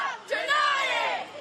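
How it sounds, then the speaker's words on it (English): A crowd of supporters chanting and yelling outside a courthouse, heard from a distance as a loud, blended wash of raised voices with a rising shout. "Their chants heard all the way up on the 15th floor"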